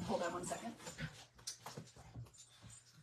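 A foster puppy and other dogs whimper, yip and pant indoors, soft whines mixing with a voice speaking briefly over them.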